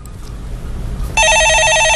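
Landline telephone bell starts suddenly and rings steadily, a loud, bright electronic warble that comes in after a short stretch of low room hum.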